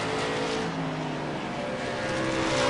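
A V8 Supercar on a qualifying hot lap at the Race of Champions, its engine a steady, loud, buzzing roar with shifting harmonic tones that holds without a break throughout.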